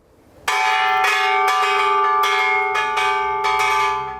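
The bell at the Children's Peace Monument in Hiroshima is struck once and rings out with a clear, sustained metallic tone that slowly fades, with faint clangs of the striker beneath it.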